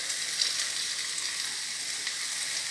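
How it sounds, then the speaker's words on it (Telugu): A spoonful of cumin seeds sizzling in hot oil, a steady bright hiss that stays loud and even throughout, with no voices. "ఇప్పుడు ఒక స్పూన్ వేసేద్దామా జీలకర్ర."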